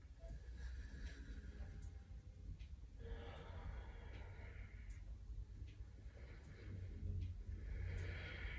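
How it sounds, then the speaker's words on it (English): Deep breathing during yoga, slow audible inhales and exhales in a few long swells, close and soft with a low background rumble. "We're going to be here for 2 more deep breaths."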